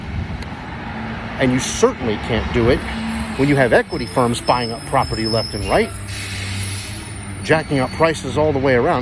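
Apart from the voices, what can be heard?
garbage truck with air brakes passing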